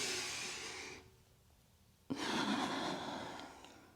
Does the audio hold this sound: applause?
no